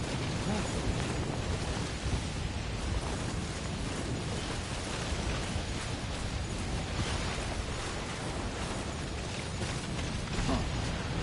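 A dense thunderstorm rages in the video game Death Stranding, a steady, unbroken roar of heavy rain and wind filling the scene at an even loudness throughout.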